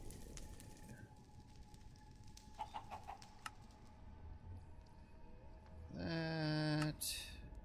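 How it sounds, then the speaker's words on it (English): A chicken in Minecraft's Nether clucks briefly near the end, loud and close over a low rumbling ambient drone, with a few faint clicks and tones earlier. "There's a chicken in the Nether."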